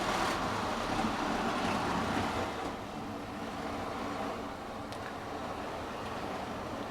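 Tri-ang RS-36 model train set running round tight first-radius curves, a steady continuous motor whir and rolling rumble close by, slightly easing in level partway through, with no voices.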